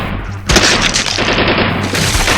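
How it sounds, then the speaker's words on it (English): Loud, dense gunfire rips through a living room, with rapid overlapping shots and crashing impacts as windows and walls are torn apart. The barrage starts abruptly and keeps going, close and overwhelming. "bullets come ripping through the living room, destroying the windows, walls, and everything in between"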